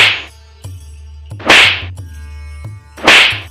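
Sharp slaps land on the cheeks, struck with both hands in a cartoon Hindi folk tale. Three loud, crisp smacks are spaced about a second and a half apart, with softer clicks between them.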